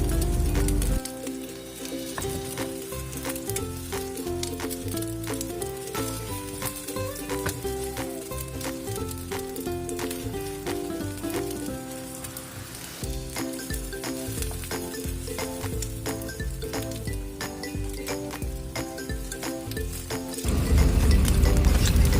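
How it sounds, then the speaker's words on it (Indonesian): An egg and green onion pancake fries over low heat in a pan, a steady close sizzle with crackling spatter throughout, briefly dipping midway and swelling louder at the end. "Goreng lagi dengan api kecil ya, sampai telur benar-benar matang."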